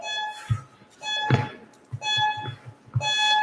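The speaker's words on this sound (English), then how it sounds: "We're starting the timer" Electronic workout timer beeping in a home exercise session, a few repeated tonal beeps roughly every second or so, each with a low thump underneath, fairly loud and close with no talk.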